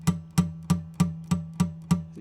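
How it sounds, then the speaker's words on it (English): Guitar string repeatedly plucked while the fretting finger makes no contact with the fret, giving dull, muted thuds with only a faint pitch, seven even strikes about a third of a second apart, close and alone. "If I don't have contact with the fret at all, it sounds like this."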